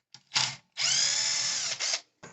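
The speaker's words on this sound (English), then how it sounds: "We need to take off this rear bumper, and there is a bolt here and here, those 2 right there, that we need to take out." A power driver whirs loudly up close, backing rear bumper bolts out of a Traxxas RC car in a few bursts: a short spin, then a long sustained run, then brief follow-up pulses.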